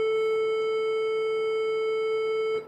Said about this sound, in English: That's the sound of your A string.